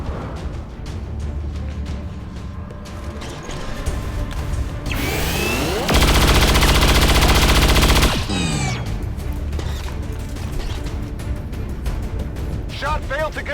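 Burst of automatic-style gunfire from a soldier's weapon in the video game XCOM 2, a loud dense two-second volley over steady game music and ambience, preceded by a rising mechanical whoosh.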